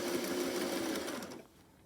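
A sewing machine runs steadily, stitching a quarter-inch seam through fabric for a stuffed bunny craft project, its motor whir continuous and close before tapering off near the end.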